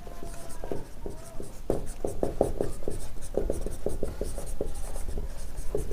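Chalk or marker writes on a board in a classroom, with a steady run of short taps and scratchy strokes of varying length, close and clear, with no talking.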